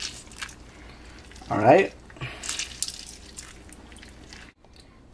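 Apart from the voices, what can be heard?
lemon being squeezed over chicken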